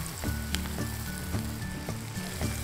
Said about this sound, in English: gently put in the vegetable fingers and deep fry them